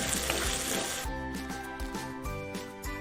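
Onions sauté in a hot pan for a theeyal curry, giving a dense crackling sizzle that softens into gentler frying with soft stirring scrapes and bumps.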